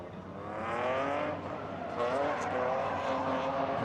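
A BMW E46 M3 drift car screams through a competition run at a drifting cup in Riga, its engine revving high and steady with tire noise layered in, held loud and sustained across the whole stretch.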